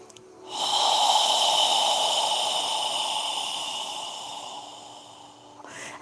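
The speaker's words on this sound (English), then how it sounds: "you slowly exhale, squeezing out all of the air in your lungs" A long, slow exhalation during yoga breathing, pushed out through the nose or mouth for about five seconds, close and airy with a steady hiss that fades gradually, then a short catch of breath at the end.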